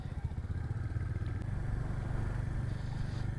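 Royal Enfield Meteor 350 motorcycle riding on a mountain road near Kasol, its low thumping single-cylinder engine pulsing steadily and close throughout, with wind rush and no talk.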